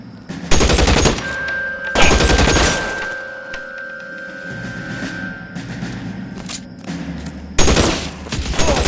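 Close, loud bursts of automatic gunfire in LA Noire Remastered on PS4 Pro, several volleys separated by quieter gaps with a sustained tone running underneath.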